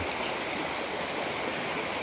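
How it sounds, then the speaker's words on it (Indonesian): A river flows outdoors with a steady, dense broadband rush of water that stays constant and fairly loud throughout, with no other sounds on top. "mohon maaf lagi bila mana suaraku sedikit terganggu dengan suara aliran sungai"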